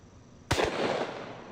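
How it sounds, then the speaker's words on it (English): A single sharp, loud blast from a Smith & Wesson 500 Magnum revolver with an 8 3/8 inch barrel firing 600 grain hard cast Underwood ammo, with a long echoing tail afterward. "This is a Smith & Wesson 500 Magnum with an 8 3/8 inch barrel, and I'm loaded up with some Underwood ammo, Kentucky Ballistics, 600 grain hard cast"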